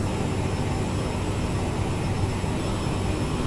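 Jet engines of a CRJ-700 climbing in Microsoft Flight Simulator 2020, a steady loud broadband roar with a constant high whine and no pauses.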